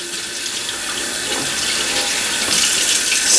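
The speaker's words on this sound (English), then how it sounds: "I'll run a bunch of water through." Tap water running over vape tank parts (Halo Triton and Ego-style tank) in a sink, a steady, close rushing splash that swells slightly toward the end, with no talking.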